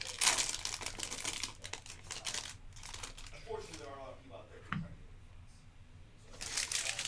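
Opening a pack of Panini Black Football cards, close crinkling and tearing of the wrapper followed by card shuffling, with a voice talking briefly in the middle.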